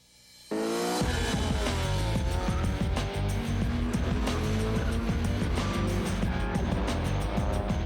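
Street drag racing cars at a car show event, with engines suddenly roaring to a loud, sustained high-revving blast that stays close and dominant, with shifting pitch as they rev and pull away.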